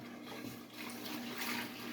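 Water and milk pour into a pot for cooking pasta, a continuous rushing, splashing flow that stays fairly even and moderately loud throughout, with no speech over it.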